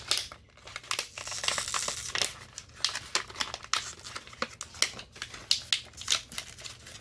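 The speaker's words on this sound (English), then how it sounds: "We're opening a package of dielectric grease." A childproof plastic package of dielectric grease being pulled and torn open by hand, a close, busy series of crinkling, crackling and tearing bursts with short pauses, no talking.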